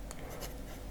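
A Conklin All American fountain pen with a stub nib scratches across paper in a brief, soft stroke, with faint high scraping bursts over a quiet background.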